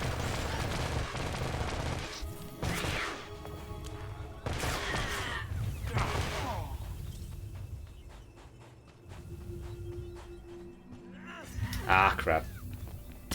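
Blaster fire laying down suppressive fire in SWTOR combat, scattered bursts of shots mixed with lowing, groaning effects and game noise, with rising and falling intensity and a loud burst near the end.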